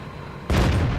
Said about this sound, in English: You can hear the Challenger and the Black Prince shooting at them.